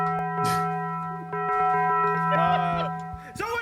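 A bell rings several times in a home with sustained, ringing metallic tones that overlap and decay, while people talk and laugh around it.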